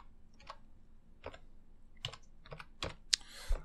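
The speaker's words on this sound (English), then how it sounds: "Sorry, I was typing with my hand and actually holding my microphone in the other." Typing on a computer keyboard at a help desk, a handful of irregular soft key clicks spread out and fairly close, with a sharper click near the end and no talking.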